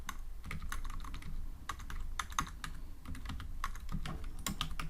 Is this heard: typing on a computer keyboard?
yes